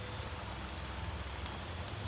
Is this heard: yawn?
no